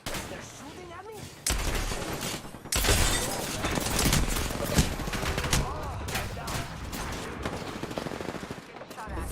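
Sustained, dense bursts of gunfire in a team-based ranked duos shooter game, loud and continuous with sharp impact cracks, over game sound effects and faint voices.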